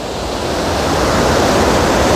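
Floodwater roaring through Wawa Dam after Typhoon Ulysses, a loud, dense, continuous rush of churning water close by, steady and building slightly, with no voices over it.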